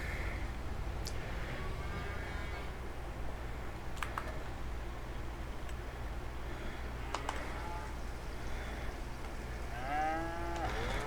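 Cattle moo in Farming Simulator 25, several drawn-out calls spaced apart over a steady farm ambience, with keyboard clicks from the player now and then.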